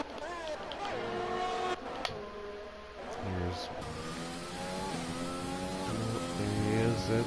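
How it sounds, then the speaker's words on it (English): Race car engines whine and shift pitch on track in the F1 2020 video game during the Spanish Grand Prix, a steady drone of revving and passing cars under continuous commentary. "Looks like his car is moving."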